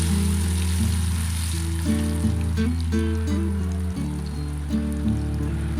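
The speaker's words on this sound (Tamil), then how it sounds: "எண்ணெயை நல்லா காய வச்சு இந்த கிழங்க நம்ம ஊற வச்சுருக்க இந்த கிழங்க கொஞ்சம் கொஞ்சமாக அதில் போட்டு ஃப்ரை" Pieces of elephant yam deep frying in hot oil, a steady loud sizzle and bubble running throughout, with low tonal hum or music underneath.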